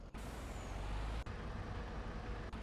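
A truck in Farming Simulator 25 rumbles steadily at close range, with a few short hissing air-brake releases breaking through the constant engine drone.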